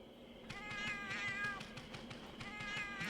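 Cat characters in the video game Monster Hunter Generations Ultimate give a string of high, wavering meows over a low steady background hum with no speech.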